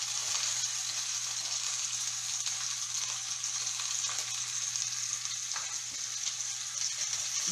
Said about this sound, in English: it's sauteing in some olive oil